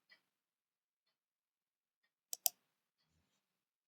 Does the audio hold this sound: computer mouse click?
yes